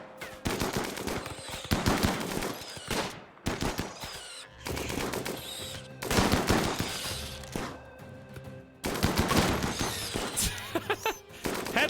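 Heavy gunfire in a RimWorld colony battle, loud machine-gun bursts and rapid shots in clusters separated by brief gaps.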